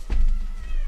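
A cat gives a single short, loud meow close by, with a low rumbling background underneath.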